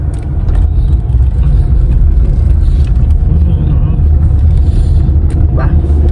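Steady loud rumble of a car interior while driving, with road and engine noise throughout, and a voice speaking briefly over it.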